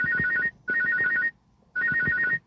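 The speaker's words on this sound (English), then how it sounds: "This nigga will not stop calling my fucking phone." An incoming call rings a phone, its electronic ringtone repeating in short bursts of warbling tones with brief gaps between them, close and clear.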